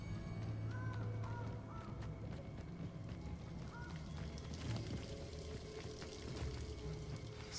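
A waterfall in the Hogwarts Legacy video game gives a steady broadband wash that runs through the whole stretch. Faint bird calls and small ambient game sounds sit on top of it.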